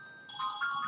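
Phone ringtone going off in a church, a short bright electronic melody of a few quick rising tones, fairly loud and heard alone.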